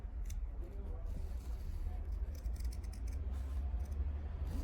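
Fabric scissors cut along a drawn line close to the stitches while sewing a jumpsuit, giving a rapid series of crisp snips and slides that run continuously from start to end.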